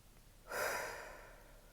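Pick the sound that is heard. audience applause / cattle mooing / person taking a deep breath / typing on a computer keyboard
person taking a deep breath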